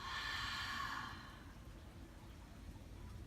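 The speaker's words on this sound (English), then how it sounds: "open the mouth, exhale" A slow, open-mouthed exhale during a yoga breathing exercise, soft and close, fading after about a second into quiet room tone.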